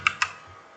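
Two quick, crisp key clicks in close succession from a computer keyboard as the Ctrl Z undo shortcut is pressed, nearby and clear, with a quiet room afterward.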